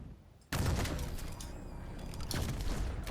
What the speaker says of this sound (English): at least the mortar doesn't explode on contact